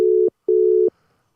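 Two sustained electronic telephone ring tones on an unanswered call, a short burst then a longer one separated by a brief gap, loud and clear with no voices.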